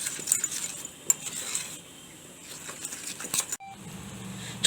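A spoon stirs a custard mixture with milk in a pot, giving continuous scraping and clinking of metal against the pan, close and moderately loud with no talking.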